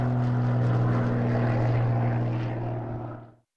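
A propeller airplane flying over Alaska carrying food supplies: a steady, droning engine hum with strong low tones, loud and close, then fading away at the end of the pass.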